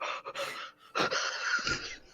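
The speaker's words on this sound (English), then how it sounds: "What the fuck was that breathing?" Heavy wheezing breath, close and loud, a short rasping inhale followed by a longer strained, whistling exhale.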